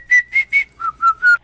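A person whistles a short jingle melody in a radio ad, six clear sustained notes: three higher tones, then three lower ones, bright and close with no talking.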